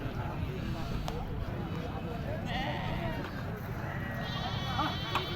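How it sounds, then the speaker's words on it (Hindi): Fat-tailed dumba sheep bleating at a busy livestock market, faint bleats buried in constant crowd hubbub and nearby chatter. "ये सारे दुम्बे हैं माशाल्लाह से"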